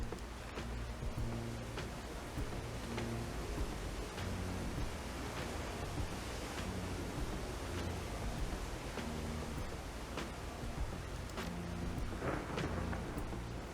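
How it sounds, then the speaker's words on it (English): Thunder rolls under steady heavy rain as lightning strikes an oak in the game Shadowrun: Hong Kong, a dense continuous wash of rain with low rumbling booms, loud and alone. "Lightning fells the oak."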